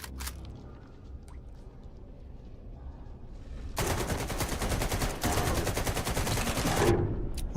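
Automatic gunfire from a weapon shooting a bloodsucker in the video game S.T.A.L.K.E.R. 2, a loud rapid continuous burst lasting about three seconds with a brief break, after a quieter lead-in.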